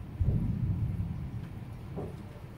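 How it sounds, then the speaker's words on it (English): Low rumbling thunder from a storm outside, a deep rolling swell that rises sharply at first and then fades gradually, with no voices over it. "Oh, it's still thundering."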